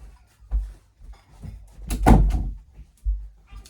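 A door is handled and pushed shut in a room, with several dull, close thumps and bumps followed by a heavier closing knock and a final softer thud.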